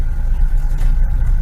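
A car drives slowly along a dark road, giving a steady, close, low engine rumble with no voices.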